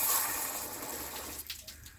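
Engine coolant spurts and gushes from a car cooling system being purged of air during an LS engine swap, a close, steady watery rush with bubbling that breaks into sputtering bursts toward the end.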